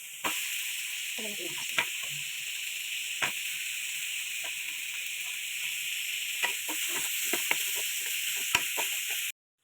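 Garlic sizzling in hot oil in a pan while green beans and sweet potato leaves are being cooked, a steady close hiss with light stirring clicks and a voice speaking over it.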